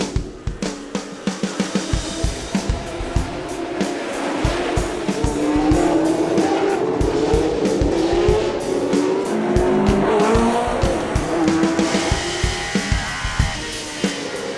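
Historic 1977–1980 Formula One race cars scream around the Monaco Grand Prix street circuit, loud engines rising and falling through gear changes with tire squeal and sharp rhythmic bursts as cars pass close.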